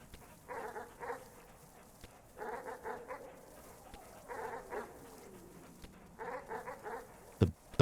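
Dogs in the video game Animal Well barking in repeated clusters of quick barks, several bursts spaced a second or two apart, moderately loud over a low background hum, with a sharp thump near the end.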